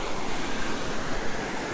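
Surf rolls onto the beach at Punta Prima, Torrevieja, Spain, a dense, continuous wash of breaking waves with a rushing hiss, loud and close, with wind buffeting the microphone.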